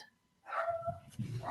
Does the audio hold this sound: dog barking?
yes